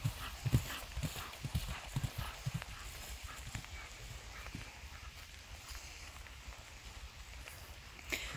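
Horse hooves clip-clop across an arena during a jumping lesson, with a cluster of sharp, close strikes in the first two seconds. The steps then soften into a steady, quieter rhythm over a rain-like hiss.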